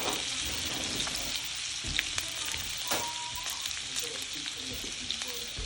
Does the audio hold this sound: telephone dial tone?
no